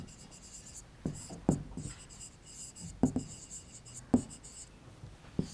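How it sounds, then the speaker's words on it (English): A pen writes a prime factor by hand on paper in a maths lesson, making soft scratching strokes with a few sharper taps, quiet and close, with no talking. "Let us write here."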